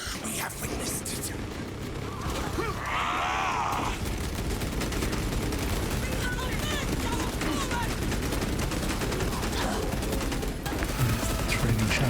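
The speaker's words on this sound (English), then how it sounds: "Trading shots." Sustained gunfire trades back and forth in a video game battle, dense and continuous throughout, with voices speaking over the shooting.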